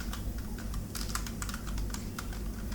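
Rapid keystrokes on a computer keyboard as a DOS command is typed, a steady run of close, crisp clicks over a low background hum with no voices.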